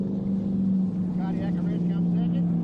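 Offshore powerboat racing at Lake Macquarie, Australia, a Supersport 85 boat crossing the finish line: a steady loud engine drone with a strong low hum, under continuous commentary.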